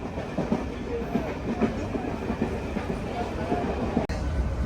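Loud, continuous rumble and rhythmic clickety-clack of a MEMU passenger train at cruising speed on the diversion toward Kanchipuram, heard from inside the coach, with a brief sharp dropout near the end.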